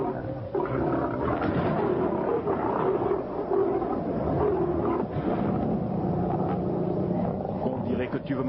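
A werewolf monster roars in agony, a dense, continuous growling bellow filling the whole stretch at close range, with a voice speaking over it at times.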